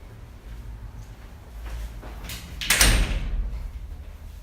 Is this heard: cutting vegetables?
no